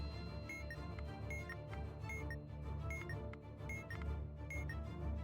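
Snooze-button alarm clock rings repeatedly in a video game, regular bright beeping pulses over a dense, busy game soundscape with steady background hum.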